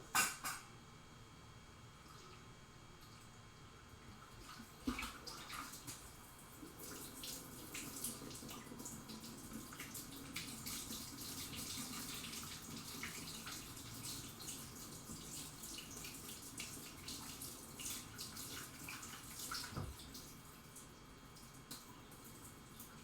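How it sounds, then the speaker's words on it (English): Tap water runs steadily into a sink while freshly made paneer curds are rinsed, a continuous splashing stream with a few louder knocks and shifts, no talking. "You actually rinse it to wash the curds off."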